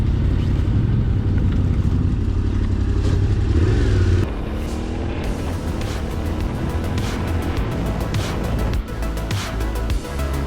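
A Yamaha T7, a relatively heavy adventure motorcycle, riding on a trail, its engine droning steadily and loud up close with shifting load and clattering bumps partway through.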